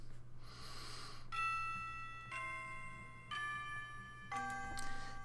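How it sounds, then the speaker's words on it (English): A school bell chime in the visual novel Amatsutsumi plays four slow, clear descending tones, each ringing out with a bright sustained shimmer over a low steady hum. "Before I know it, the bell has rung."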